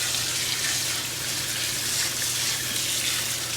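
Running water pours steadily over live crayfish, a broad, loud, continuous hiss and splash from a tap or hose, close by and with no talk over it.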